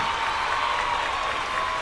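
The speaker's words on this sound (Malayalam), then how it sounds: "ഒരു അടിപൊളി കയ്യടി കൂടി എല്ലാവരും കൊടുക്കാം." An audience at a televised children's singing show breaks into dense, continuous clapping, loud and close, holding steady with no voices on top.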